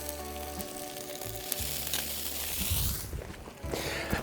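A handful of snow is dropped into a hot pizza pan, setting off a loud crackling sizzle and hiss that swells and steams for a few seconds, with some crunchy scraping mixed in.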